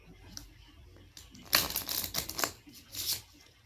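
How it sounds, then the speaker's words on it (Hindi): A deck of playing cards being riffle shuffled: a soft fluttering burst of rapid card flicks lasting about a second and a half, followed by a short brushing settle, fairly close and quiet. "So now let's make it more random by giving it another round of riffle shuffle"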